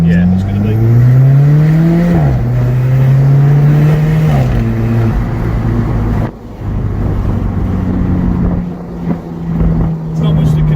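A Fiat Coupe engine pulls hard while driving, its tone climbing steadily through the revs, dropping at a gear change and rising again, loud and close, with people talking over it.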